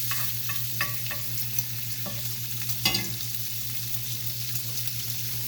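Bacon sizzles steadily in a frying pan while it is pushed around, with scraping stir strokes and small clinks over a constant hiss.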